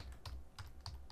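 A file name is typed on a computer keyboard, a few soft, quiet keystrokes spaced a fraction of a second apart, with no voices.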